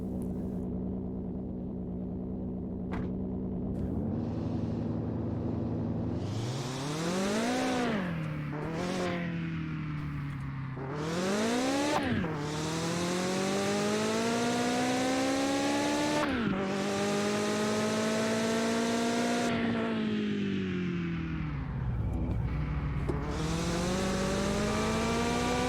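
An old truck in the Mon Bazou game drives and revs hard, its engine note climbing and dropping through repeated throttle bursts, loud, close and continuous, with no talking.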